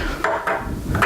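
A hot pan is set down on an improvised trivet on a table after cooking, giving a few dull, close knocks spaced apart over a low background.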